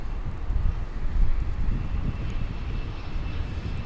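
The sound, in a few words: American Eagle passenger jet arriving at DFW airport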